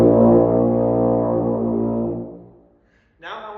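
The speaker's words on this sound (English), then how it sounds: "That's a good solid B flat." A tuba plays one long, solid, low B flat, rich and buzzy up close, fading out after about two seconds before a voice begins speaking.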